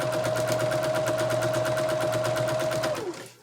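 A sewing machine runs steadily for about three seconds, stitching together a pocket prayer quilt, with a rapid, even whir and a constant hum before it winds down and stops.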